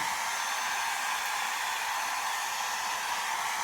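A hair dryer blows continuously on hair, a steady, airy high-pitched whoosh at constant loudness from start to end, with no talk over it.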